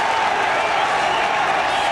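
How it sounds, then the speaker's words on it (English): Welsh football crowd in a stadium at a Wales versus West Germany match, a dense steady roar of cheering and applause with a commentator's voice over it. "And at last the Welsh crowd have got something to shout about"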